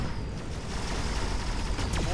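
Units in Mechabellum fire rapid, continuous gunfire, a dense crackling barrage that stays loud and steady throughout with no pauses.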